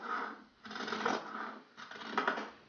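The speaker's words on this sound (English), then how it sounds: "you can grab your shears and start cutting out" Fabric shears cut out hoodie pieces in a few quick crisp bursts of snipping and sliding blades, close and fairly quiet, with short pauses between cuts and no talking.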